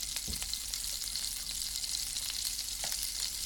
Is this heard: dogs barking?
no